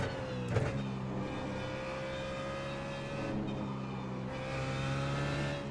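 BMW Z4 GT3 race car engine in iRacing, driving on a full fuel load at COTA, droning steadily with a brief sharp rev early on and gear-change dips, sustained and close throughout.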